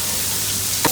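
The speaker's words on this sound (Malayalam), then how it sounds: "ഇനി രണ്ടും കൂടെ നന്നായിട്ട് മിക്സ് ചെയ്യാം കേട്ടോ." Crushed coconut mixed with mushrooms sizzles steadily in a hot pan, and a single brief scrape of the stirring spoon comes near the end.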